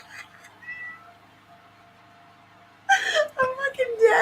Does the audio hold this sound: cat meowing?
yes